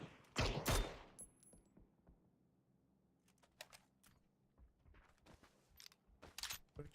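Gunfire in PUBG gives a loud, sharp burst at the start, then a quieter stretch with scattered distant shots, and a few more cracks and a short cluster of shots toward the end, with no talk.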